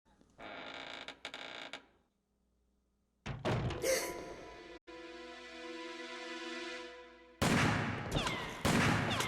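Gunfire and sound effects from Resident Evil Code Veronica X play in bursts separated by brief silences, with sharp shots, a sustained metallic ringing tone, and loud clattering blasts near the end.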